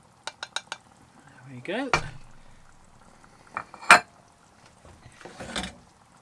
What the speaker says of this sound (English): I'm now going to add the mushrooms